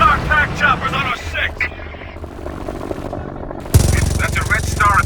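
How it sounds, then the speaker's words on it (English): Red Star attack helicopters in the war game Frontlines: Fuel of War, their rotors beating and growing louder under shouting soldiers, with gunfire and a sudden loud burst near the end. "Hey, you hear that? It sounds like choppers!"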